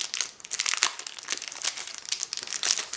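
A small box of glitter is unwrapped from its packaging, giving steady close crinkling and crumpling of plastic or paper with brief tearing bursts throughout, no voices.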